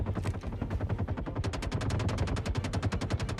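Rapid automatic gunfire in the Star Citizen video game, set in the lawless Pyro system, loud and continuous with fast repeating bursts that tighten into a steady rattle.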